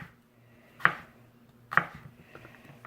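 Two sharp knife chops land on a cutting board about a second apart, close and distinct over a quiet background, as peppers and sausage are cut for an Italian skillet meal.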